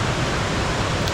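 Steady, dense rush of a waterfall heard close up, a continuous broadband roar with no breaks or voices.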